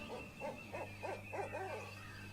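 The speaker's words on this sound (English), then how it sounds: "That's an owl hoot, apparently, according to SoundCloud." An owl hoots in a run of five or six soft, evenly spaced calls over a steady low hum, moderately quiet and without talk.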